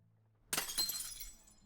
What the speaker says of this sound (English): a bottle smashed at his feet